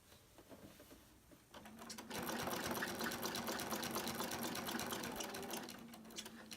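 A sewing machine starts up and runs in a fast, steady mechanical whir while stitching a beginner quilt block, close and continuous with no talking.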